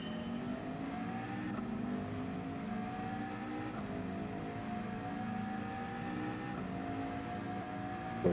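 Race cars accelerate in a racing video game, with a BMW ahead and a Huracan behind, a loud continuous engine whine climbing in pitch through repeated gear shifts, with no talking.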